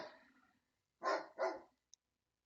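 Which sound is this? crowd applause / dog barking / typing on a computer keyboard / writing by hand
dog barking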